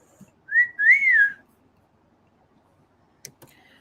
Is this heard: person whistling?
yes